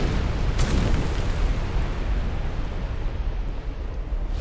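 A fireball fire-breath attack in the video game Dark Souls 2 lands as a loud, rumbling blast that swells into a sustained roaring wash with a sharp burst near its start.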